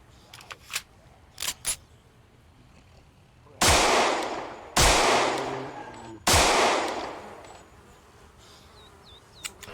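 Three loud, sharp gunshots spaced about a second apart ring out in a zombie survival game, preceded by a few faint clicks and small pops, with no talking.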